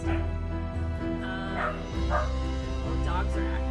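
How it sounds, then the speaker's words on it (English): Dogs in a video game bark and yip repeatedly over a steady droning game soundtrack, with whimpering yelps rising and falling at mid distance while someone talks over them. "Oh, dogs are active."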